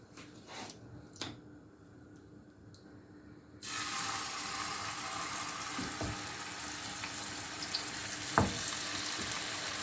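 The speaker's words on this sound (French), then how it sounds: "Je vais venir d'abord les saisir dans ma poêle." Chicken drumsticks sear in hot oil in a frying pan: after a few quiet seconds with faint clicks, a loud, steady sizzle and hiss breaks in and keeps going, with occasional sharper pops.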